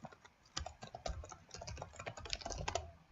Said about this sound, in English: And I'll type that out for you guys here.